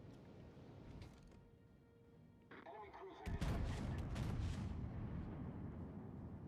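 Naval gunfire in World of Warships: Legends, with the battleships Dunkerque and Charles Martel, deep booming salvos and heavy rumbling blasts that build into a louder, sustained barrage after a quieter opening, with crackling impacts layered on top.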